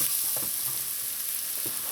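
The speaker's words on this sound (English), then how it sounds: "just let your garlic get a nice light brown color" Garlic sizzles and fries steadily in a pot with coconut milk and hot peppers, a constant hissing crackle with faint stirring knocks, close and even in level.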